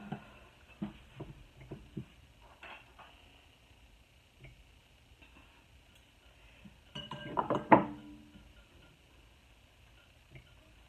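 Glass canning lids clink and tap together as they are handled and set in place during home fruit-cocktail canning, with sparse close knocks, quiet gaps, then a brief louder cluster of clatter.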